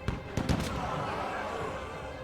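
A volley of musket fire in the We. The Revolution video game, a few sharp cracks in quick succession at the start, then a lingering rumble and battle din.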